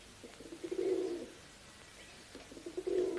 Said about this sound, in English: I love these perky little pigeons.